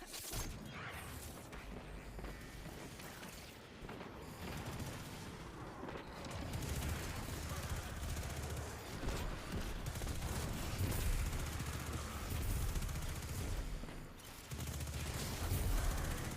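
Continuous video game gunfire aimed at a ship, dense overlapping shots and booms forming a loud, steady barrage throughout with no talking.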